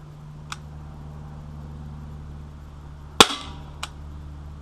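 A Sig Sauer P250 CO2 blowback .177 pellet pistol fires one sharp, loud crack with a brief ringing tail. Faint clicks come before and after it, over a steady low hum.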